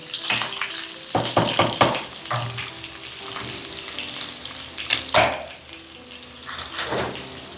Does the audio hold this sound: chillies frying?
yes